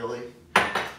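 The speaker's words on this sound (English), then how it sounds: "And we'll put that into a saucepan." A metal saucepan set down and shifted on a stove while making Dutch baby pancakes, two close clanks after a brief murmur of a voice, the second knock a little softer.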